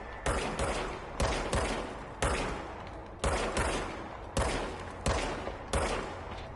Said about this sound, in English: Now I have a gun.